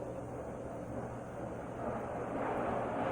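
A loud airplane flying overhead, a steady low broadband roar that holds throughout and builds slightly toward the end, with no talk over it.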